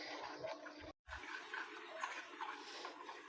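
Water poured steadily into gram flour batter in a bowl to make a batter for potato chicken tikki, a continuous close splashing pour broken by one brief pause.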